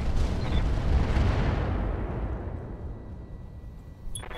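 Mech weapons in Roguetech, a BattleTech game, fire in a loud booming burst that rolls off into a long fading rumble, with a small click near the end.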